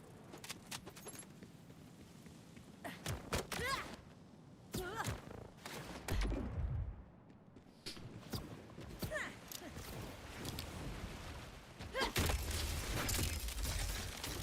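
Rapid shotgun blasts from a Borderlands game, sharp loud bursts fired in irregular clusters with impact crashes, mixed with game effects and someone talking between shots.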